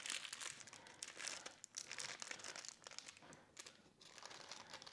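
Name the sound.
folding and rolling parchment paper to seal sole en papillote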